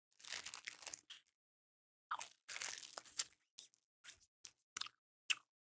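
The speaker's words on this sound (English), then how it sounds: "It's a wad of plastic that I'm chewing like a cow chews cud." Someone chews a wad of plastic lollipop wrapper up close, producing bursts of crinkly crunching separated by short silences, with no talk.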